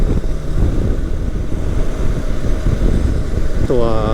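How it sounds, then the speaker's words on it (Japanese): Wind roars loud and constant around a Honda CB500X motorcycle ridden on a European tour, a heavy buffeting rumble that drowns nearly everything, with a brief voice rising at the very end. "今乗っていて感じる騒音ってやっぱりヘルメットの中に響く風の音なんですよね"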